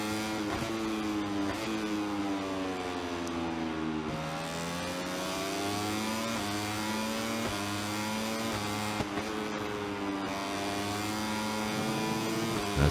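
A racing motorcycle engine in the video game MotoGP 24 is heard from the rider's perspective. Its tone rises and falls as the bike shifts gears, with sustained loud revving and no talk.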